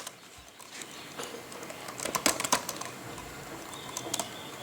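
Keys tapped on a computer keyboard in irregular bursts, with a dense cluster of quick clicks in the middle of a quiet room and scattered strokes after.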